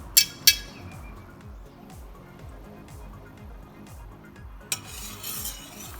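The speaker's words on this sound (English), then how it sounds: "For the next part, I'm gonna stir it up." A spoon stirs a play dough mix of flour and water in a bowl, with a few sharp clinks against the side and a soft steady scraping, over a low repeating background hum.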